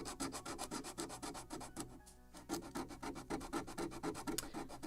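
A wooden deck edge on a model kit of the 1776 gunboat Philadelphia is sanded into a bevel with quick, even back-and-forth rubbing strokes. The strokes pause briefly, then carry on. The scratchy sound is close and fairly quiet, with no voices.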